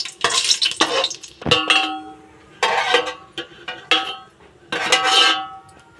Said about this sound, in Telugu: జీడిపప్పు వేయించుకొని పక్కన పెట్టుకోవాలండి